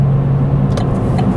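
A Chevrolet Spark EV electric car picks up speed with a loud, steady road and motor hum heard from inside, broken by a few faint ticks toward the end.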